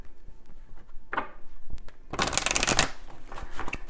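A deck of oracle cards gets shuffled up close, with a short riffle first and then a longer, louder burst of cards rippling and slapping together, ending in a few soft handling taps.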